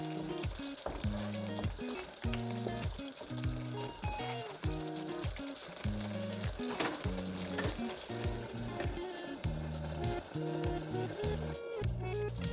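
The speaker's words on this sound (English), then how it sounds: "After adding my curry powder, I will stir it a bit, then cover it and allow it to cook for a while." A stew seasoned with curry powder sizzles and bubbles in a pot while being stirred, a steady frying hiss with repeated scraping and clinking strokes throughout, close and without talking.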